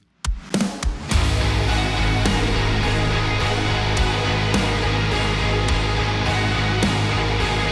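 Electric guitar sounding one sustained, distorted C note, struck a few times at the start and then ringing steadily with faint repeated picking.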